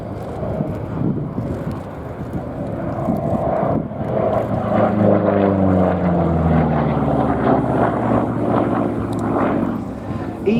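A Republic P-47D Thunderbolt propeller fighter flies past at the Abingdon airshow, its engine drone swelling loud and sweeping down in pitch as it passes, with a commentator's voice heard over the roar.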